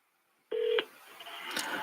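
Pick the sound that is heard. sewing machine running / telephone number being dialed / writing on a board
telephone number being dialed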